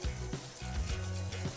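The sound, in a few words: rinsing nuts with cool water in a sprouter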